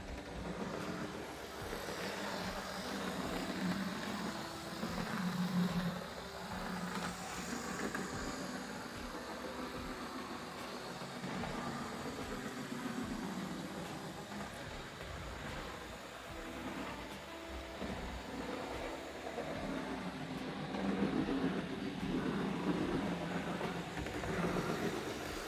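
A Fleischmann V100 model locomotive runs at high speed after a service, giving a continuous close motor whir and rumble that swells and eases slightly over time, with no talk.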